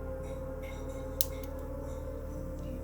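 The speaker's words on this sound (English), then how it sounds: "And then snip that off." Wire is snipped with small cutters while making beaded chandelier earrings, one crisp click-snip in the middle over a quiet background hum.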